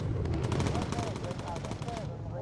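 Bomber gunner's machine gun firing in a WW2 flying video game, a rapid, steady burst of shots over a low engine roar, loud and sustained for about two seconds before cutting off.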